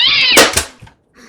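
A house cat lets out a loud, drawn-out meow close by, followed by a brief clatter and a faint second call.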